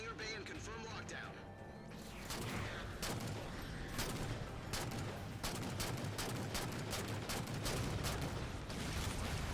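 Turrets in the Halo game, during a Spartan Ops mission, fire dense bursts of gunfire with rapid sharp shots that build into sustained volleys. A voice talks underneath the shooting.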